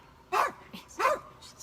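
A small dog barks at the mailman: two sharp, close yaps about half a second apart, each followed by a softer trailing yip.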